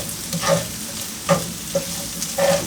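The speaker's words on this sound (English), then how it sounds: "I'm going to put the onion in because I can't deal with looking at it anymore." Onion fries in a pan for a potato and egg frittata, a soft constant sizzle broken by several sharp scraping stirs at irregular intervals, close up and without talk.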